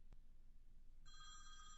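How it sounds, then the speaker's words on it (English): A telephone starts ringing with an incoming call, a bright trilling bell tone arriving after a second of low background hum, moderately loud and continuing to the end. "okay, there's the phone call coming in"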